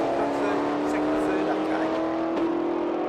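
Pickup trucks drag racing at Willowbank Raceway with manual gearboxes, a steady loud engine drone with rising revs and brief dips at the gear shifts, with a faint voice over it.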